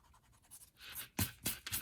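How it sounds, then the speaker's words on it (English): A pencil line is rubbed out with a few quick, close eraser strokes on paper while making a felt monster template, the scrubbing growing louder into three distinct bursts at the end. "I'm going to erase this line"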